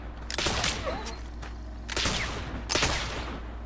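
Gunfire in The Oregon Trail (2022) video game: three bursts of rapid shots spaced about a second apart, loud and close, with a faint hum beneath and no talking.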